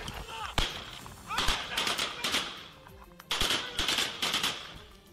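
Bursts of rapid gunfire fired by a terrorist at police, sharp cracking shots in clustered volleys with short pauses between, fairly close and loud, with a voice faintly under them.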